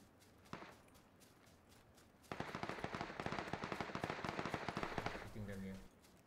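Rapid automatic gunfire in the Foxhole war game crackles in a dense burst of sharp reports after an isolated early shot, fairly close and loud, with voices talking around it.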